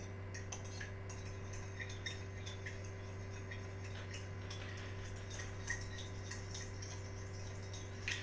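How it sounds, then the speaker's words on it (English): A fork clinks and scrapes against a bowl while mixing ingredients, light irregular ticks over a steady low hum, no talking. "now I've gone and got myself a fork right here, and I'm just gonna start mixing it up a little bit"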